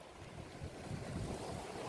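Ocean waves wash in a soft, continuous rush on an autumn shore, faint and distant with a gentle swell and some wind noise.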